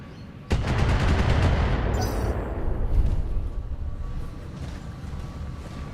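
Autocannon fire in the mech game BattleTech: a sudden loud burst of rapid, heavy rounds rolling into a long rumbling barrage with a metallic clatter, fading slowly over several seconds without speech.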